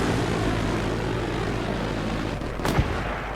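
A helicopter in a multiplayer video game match thrums with steady rotor and engine noise under a busy battle mix, with a sharp gunfire-like crack near the end.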